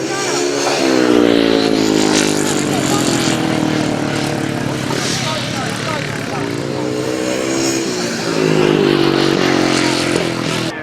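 500cc sidecar racing motorcycles crossing the finish line during a sidecar super series race: a loud, continuous engine roar that rises and falls in pitch as machines pass, with a commentator talking over it throughout.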